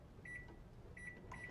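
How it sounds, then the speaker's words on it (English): A microwave oven hums as it warms syrup for French toast. A faint steady drone runs throughout with a few short, thin beeps or tones near the start and end. "15-20 seconds in the microwave just to warm it up"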